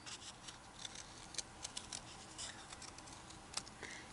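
Scissors snip a slit into a paper circle and cut out its middle for a pom pom bunny craft, giving soft, irregular close-up snips and paper rustle at a low level.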